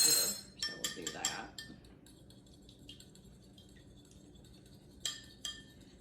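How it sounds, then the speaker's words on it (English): Egg being beaten with a fork or whisk in a bowl for corn fritters: a quick burst of clinking, rattling strokes against the bowl for about a second and a half, then quiet, with two more brief clinks near the end. "you're going to want to beat your egg a little bit before you actually put it in your mixture"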